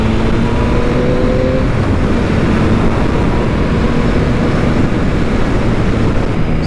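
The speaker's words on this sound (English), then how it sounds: "So obviously we know the MT-09's got plenty of power on tap." A Yamaha MT-09 naked motorcycle is being ridden, its engine a steady, loud drone with heavy wind rush that continues without a break and with no talking.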